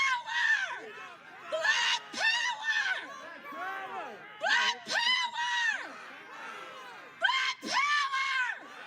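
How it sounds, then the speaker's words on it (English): A protest crowd outside the Washington state capitol in Olympia screams and yells in repeated loud surges, voices overlapping in wild whoops and shrieks with short lulls between bursts. "it's pretty much just screaming"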